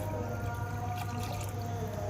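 Water poured into a clay cooking pot (mitti ki handi) set on a stove, a steady continuous pouring and trickling close by, moderately quiet, with no talking.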